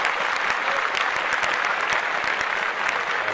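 A comedy show audience applauds loudly and steadily, dense clapping filling the room from start to finish without a break.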